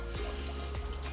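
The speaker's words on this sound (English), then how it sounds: "There's a pump that comes up here and lets the water run down" Water from a pump runs down into a garden pond in a steady, soft trickle and pour, close and continuous, with no voices.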